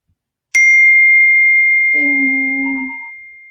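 A single clear electronic ding rings out sharply after a moment of silence and sustains with a long fading tone, joined midway by a lower, softer chime note.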